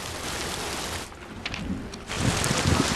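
Heavy rain pouring down in a film scene, a dense loud hiss and wind roar that dips briefly before surging back even stronger.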